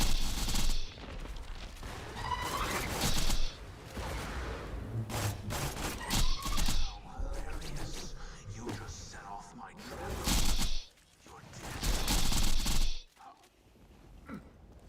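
Borderlands gunfire rings out in repeated loud bursts and volleys, mixed with mechanical clanks and thuds, while a person talks over the action.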